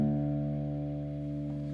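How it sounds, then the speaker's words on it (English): An acoustic guitar's low sixth string, tuned down a full step to D, rings as a single sustained note that slowly decays, soft and close with no voices. "we're going to take our 6th string, or our sort of thick E string, and we're going to tune it down to a D note"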